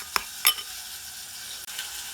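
A spoon stirs a cheesy burger sauce in a bowl, giving a couple of sharp clinks and soft scraping against a quiet background, with no talk.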